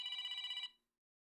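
A phone rings through a microphone with a single electronic trilling burst of rapid pulses, fairly faint, lasting under a second before cutting off into silence.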